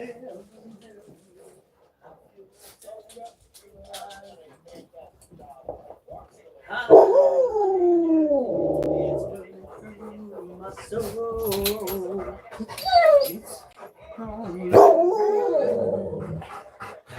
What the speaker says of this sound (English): I am neglecting the great fluffy dog.